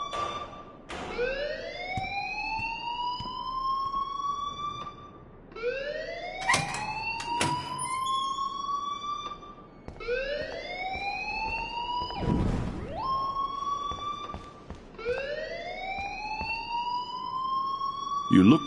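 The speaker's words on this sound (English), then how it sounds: "please turn off that alarm since that's your job" A wailing alarm siren in the video game Life is Strange rises and holds in repeated cycles, each sweep climbing then sustaining before cutting off, loud and close, with voices speaking underneath.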